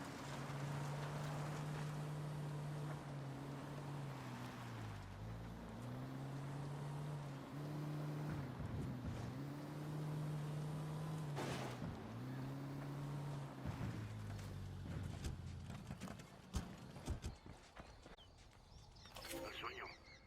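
A vehicle driven in Ghost Recon Wildlands gives a steady engine drone that rises and falls as it shifts, with wind rushing past and a few knocks near the end, and voices talking over it.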